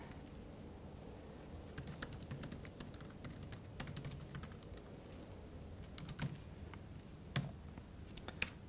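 Typing on a computer keyboard, a quick, uneven run of close, light key clicks with brief pauses and a few sharper taps near the end.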